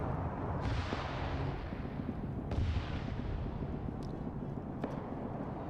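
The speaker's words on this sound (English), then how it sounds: "You have AT firing." A German PAK anti-tank gun fires in a video game battle: two muffled, distant booms, at about half a second and two and a half seconds, each fading into a low, steady rumble of background battle noise.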